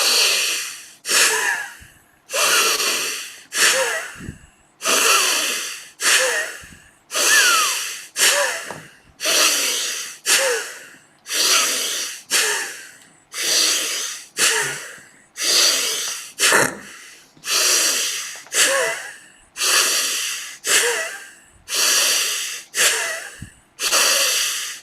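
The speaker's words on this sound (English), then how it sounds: "use the muscles here in the cheeks to seal it, so that you are breathing in and out through the nose" Vajra breath practiced with sealed lips, forceful rhythmic breaths in and out through the nose, a steady series of sharp, close hissing pulses repeating evenly with no talking.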